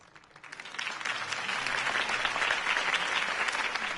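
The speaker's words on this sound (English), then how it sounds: "If only Mr. Wayne, my campaign's largest backer, could have heard that applause" Video game crowd applause after a campaign speech, swelling quickly from a quiet start into sustained, dense clapping that holds steady to the end.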